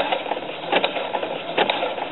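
A sewing machine runs a slow satin stitch over a bar on fabric, its motor whirring steadily with soft rhythmic clicking and a couple of louder surges, close and alone.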